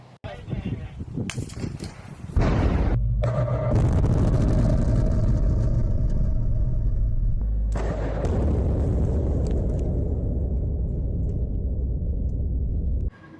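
A reinforced concrete structure brought down by an explosive demolition blast: a sudden loud detonation followed by a long, heavy, sustained roar and rumble of collapse that continues to the end.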